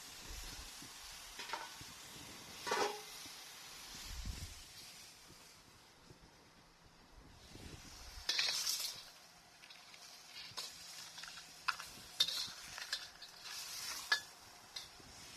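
Blue swimmer crabs stir-fried in a wok with chili and spring onion over high heat, a steady close sizzle with bursts of stirring and scraping, quieter in the middle stretch, no talk.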